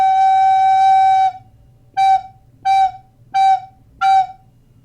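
A low F-sharp recorder note held for over a second, then four short repeated toots of the same pitch, evenly spaced, clear and close.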